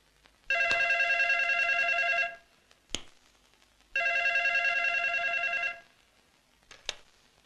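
A telephone rings in a house: two long electronic ring bursts, each about two seconds, separated by a pause, loud and close, with a couple of sharp clicks between and no talking.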